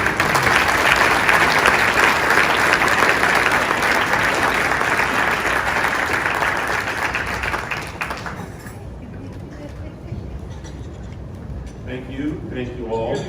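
An audience at a 2019 Presidential Rank Awards ceremony applauds award recipients with loud, sustained clapping that fills most of the clip, then thins out and fades.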